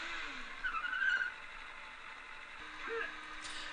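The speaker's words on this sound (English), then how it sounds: "I will ride my bike now, and I press the L2 button, and I can brake with the square button" A motorbike being ridden and braked in the video game Kenka Bancho 2, with a steady engine drone and two short tire skid squeals, the first near the start and the second near the end.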